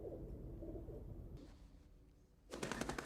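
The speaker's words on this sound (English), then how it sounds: "From Van Damme's special moment with a pigeon." A pigeon coos softly in a Jean-Claude Van Damme movie scene, low throaty calls at a faint level, followed by a louder burst of noise at the end.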